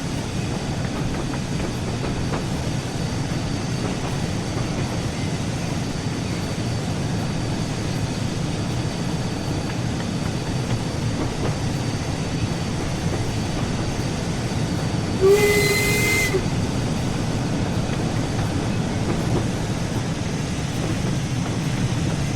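Steam locomotive running on the West Somerset Railway in Train Sim World 4, a steady rumbling chug throughout with a brief high whistle blast partway through, no talk.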